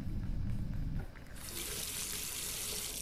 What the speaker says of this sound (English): All that remains is to rinse the plate.